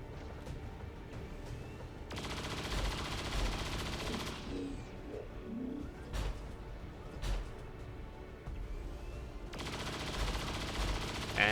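Bursts of gunfire and explosive weapon blasts from the XCOM 2: War of the Chosen strategy game, several sharp loud hits and sustained volleys over a low ambient game soundtrack, no talking.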